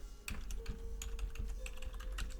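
A wireless network name being typed on a keyboard, a quick run of soft, close key clicks at an even pace, quiet, with no talking.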